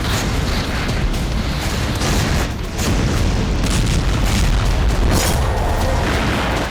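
Explosions from Russian bombardment of southern Ukraine, a loud, heavy, continuous roar of booming blasts that barely lets up, dense and saturated throughout.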